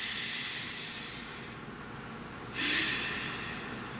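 A deep breath, drawn in softly over steady background hiss, then released as a louder, breathy exhale near the end.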